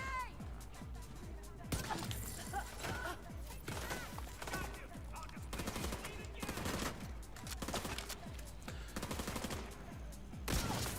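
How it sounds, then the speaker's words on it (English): Rapid, repeated gunshots from a pistol in The Division 2, a tactical shooter video game, cracking in irregular bursts over dense in-game combat noise, with voices talking throughout. "Let's kill her with our pistol, we need ammo."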